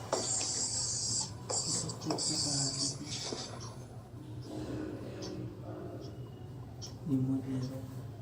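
Pen scratching across paper by hand, a series of short bright rubbing strokes with pauses between them, close and fairly quiet, while someone talks over it.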